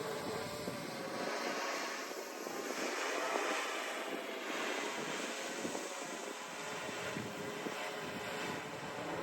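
A small model airplane flies close by on its final approach to land on asphalt pavement, its engine a steady, fairly loud drone with a constant rushing quality throughout and no talking.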